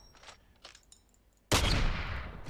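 A single Katt-AMR anti-materiel rifle shot in the video game Fallout 4, loud and sudden, with a long rumbling echo trailing off after a few quiet clicks and rustles.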